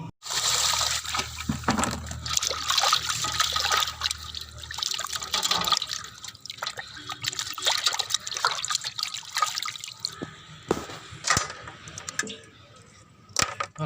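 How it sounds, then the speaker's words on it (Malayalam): Tap water runs steadily over fish being washed in a sink, a continuous close splashing trickle with bursts of clattering and handling that thins out toward the end. "ഇനി നമുക്ക് ഒന്നും കൂടെ കഴുകി വൃത്തിയാക്കി എടുക്കാം."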